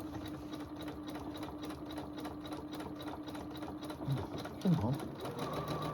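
A sewing machine test-sewing a zigzag stitch hums steadily up close with a rapid, even pulsing rhythm, while a voice speaks briefly over it near the end.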